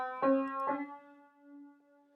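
A single piano note, the half step between C and D, struck twice in quick succession and left to ring and fade quietly on its own.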